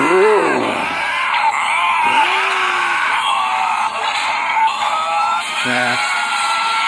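Wolverine from the X-Men animated series grunting and growling, a strained, loud cartoon voice with rough vocal bursts and a rising yell, heard against a dense, continuous soundtrack of music and effects.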